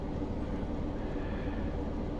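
A Class 47 diesel locomotive in Train Simulator Classic, running from Hereford to Shrewsbury, gives a steady, loud low engine rumble with rhythmic rail clatter throughout.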